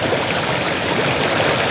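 A village stream of flowing water rushes steadily, a dense, continuous broadband gush, close and fairly loud with no voices.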